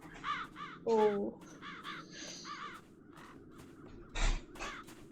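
Several crows caw repeatedly in the fantasy adventure game Chains of Satinav, harsh calls in quick rhythmic bursts over a low ambient bed, with a short spoken syllable and a louder thump near the end.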